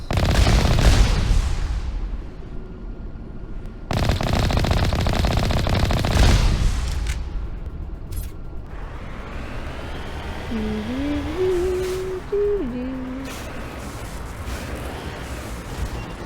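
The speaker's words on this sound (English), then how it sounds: "I'm being shot at." Gunfire from the video game Mass Effect comes in loud, heavy bursts and sustained volleys that alternate with quieter stretches, later joined by electronic tonal sounds.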